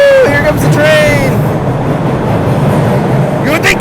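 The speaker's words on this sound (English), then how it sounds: "Here comes the train!" A train rushes past in a film scene from Carlito's Way, loud and close, with a continuous roar of rolling wheels and a squealing tone near the start. Voices can be heard briefly.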